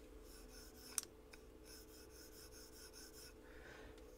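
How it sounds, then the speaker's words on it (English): A folding knife's detent ball rubs on the tang as the blade pivots, giving faint, close, scratchy rasping strokes in short repeated bursts, with a small click near the start. "That's just the detent ball rubbing on the tang"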